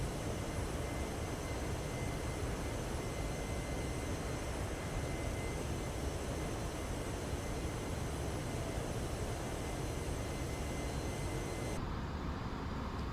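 A Virgin Atlantic Airbus A340 four-engine airliner cruising in a flight simulator, a steady loud broadband engine roar that holds unchanged throughout with no talking.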